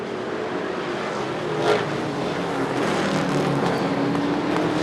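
Short track race cars in a Super Short Track Racing Series event roar past in a steady, dense engine drone, with a brief louder surge as one car draws close before the field keeps running.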